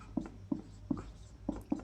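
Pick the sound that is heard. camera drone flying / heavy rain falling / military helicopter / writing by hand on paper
writing by hand on paper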